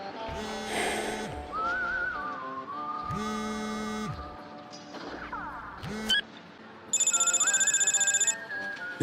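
A phone rings in the video game inFAMOUS 2, bursts of bright electronic ringtone repeating several times at close range over a sustained musical backdrop, ending in a rapid warbling ring.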